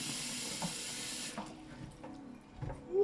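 A tap runs water into a sink, rinsing soil down the drain; a steady close rush cuts off partway through, leaving quieter dripping and faint handling noises.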